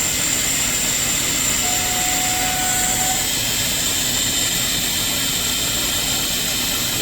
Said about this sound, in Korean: 얘가 이제 쭉 움직이면서 모터를 초기화를 합니다